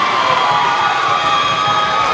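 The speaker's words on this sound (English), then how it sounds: "The White Swan crowd showing their appreciation." A White Swan basketball crowd at a high school game cheers and shouts loudly and steadily after a made basket, a dense wall of voices with children's shrieks mixed in.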